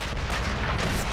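Enemy gunfire in Sniper Elite V2 at the Tiergarten Flak Tower in wartime Berlin, heavy booming shots rumbling together into a thick continuous roar, loud and unbroken.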